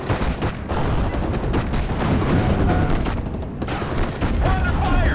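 Dense gunfire and heavy artillery booms roll on without pause in the Normandy 1944 strategy game Steel Division: Normandy 44, loud and chaotic, with scattered voices mixed in under the barrage.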